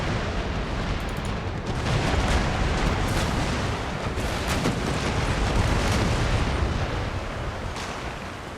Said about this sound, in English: A solid broadside from the second rate brought it down